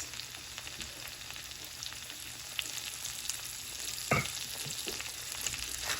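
Potato wedges and onions fry over medium-high heat in a pan, a steady close sizzle running throughout with occasional louder crackles and a brief stir near the end.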